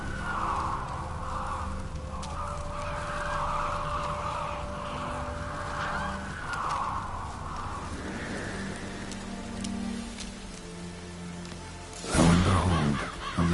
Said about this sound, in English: Ordinary ravens, looks like.